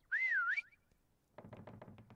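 Whistling in the video game Call of Duty WWII, a short wavering pitched whistle followed after a pause by a run of quick soft taps or footsteps.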